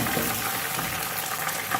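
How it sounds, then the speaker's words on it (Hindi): A little water poured onto chopped tomatoes in a hot pan, giving a close, steady hissing rush that runs the whole short moment without pause. "टमाटर डाल के थोड़ा सा पानी डाला मैंने"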